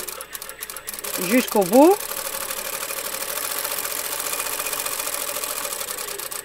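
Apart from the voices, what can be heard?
sewing machine stitching in reverse along a hem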